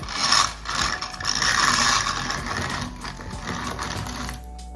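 A grain mill grinding dry, hard, non-nixtamalized corn into flour, giving a continuous harsh gritty rasp with rattling mechanical clatter that stays loud and close throughout.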